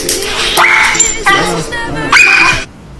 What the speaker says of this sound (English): the dog doesn't like it because it's painful, okay? You see the dog reacting there.